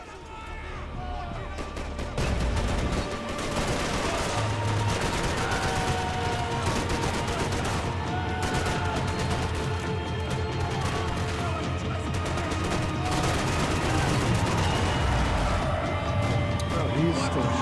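Dense, continuous gunfire from the video game Max Payne 3, rapid shots and bursts layered over one another for the whole stretch, loud and near, with a voice speaking intermittently underneath.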